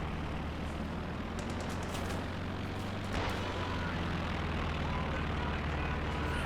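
Aircraft in the World War II strategy game Company of Heroes 2 drone steadily and loud, with brief bursts of gunfire and a distant blast midway.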